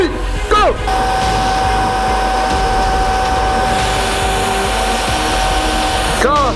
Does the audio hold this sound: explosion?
no